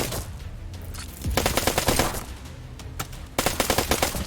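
Airship guns firing in the video game Black Skylands, two rapid bursts of rattling automatic fire separated by a short lull, loud and close with no voices.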